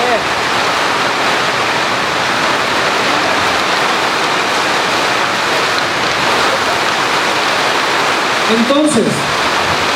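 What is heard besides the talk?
rain falling in the background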